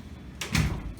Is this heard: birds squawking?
no